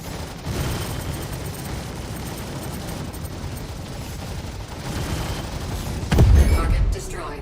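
Target ship exploding in the Star Citizen space combat game, a heavy low boom bursting out near the end over a steady roar of engine and weapon noise, with a voice speaking throughout.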